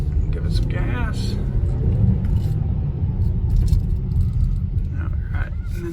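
A 2021 Hyundai Palisade Limited AWD accelerates with a steady, moderate engine rumble and road noise heard from inside the cabin, while people talk over it.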